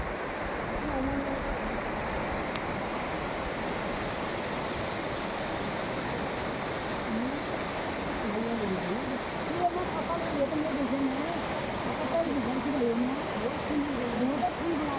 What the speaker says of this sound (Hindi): देखिए नदी का नज़ारा।